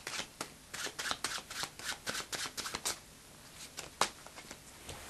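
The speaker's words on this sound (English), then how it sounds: "stacking cards, which is arranging the cards so that you get them during the deal" Playing cards worked by hand in an overhand shuffle while being stacked for a four-player deal, a steady run of crisp, close slaps and riffles with short pauses between bursts.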